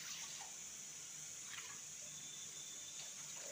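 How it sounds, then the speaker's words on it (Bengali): Water is poured from a bowl onto 150 grams of sugar in a pot to make a thin syrup, a faint, steady trickling splash with small bursts of pouring. "150 গ্রাম চিনির জন্য এখানে 3 বাটি জল দিয়ে দেবো"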